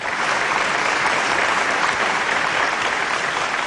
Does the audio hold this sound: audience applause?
yes